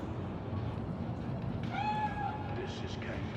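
A cat meows once in the Cyberpunk 2077 video game, a clear drawn-out mew rising out of a murmur of background voices and game ambience.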